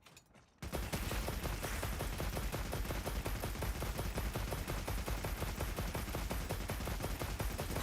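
A machine gun fires in continuous rapid automatic bursts in the game Path of Exile 2, dense and loud after a brief quiet start, holding steady without pauses and with no voices.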